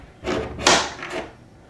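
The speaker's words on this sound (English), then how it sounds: "if I go and I close the door, it sticks there" A door swinging shut and latching gives three quick wooden knocks and clunks in close succession, loud and near, with the middle impact the strongest.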